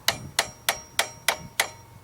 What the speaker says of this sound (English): before you yell at me for hammering on a screwdriver